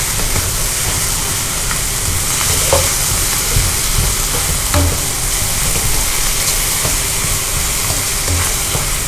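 Minced beef stir-frying in a hot wok, a steady close sizzle with bursts of scraping and stirring running through without a pause.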